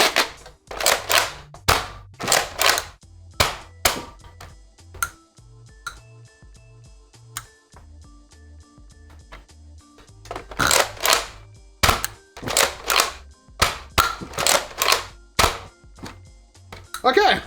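Nerf Smart AR blasters fire in rapid bursts of sharp pops and snaps, close and loud. Between the bursts comes a quieter stretch of mechanical clicking and whirring.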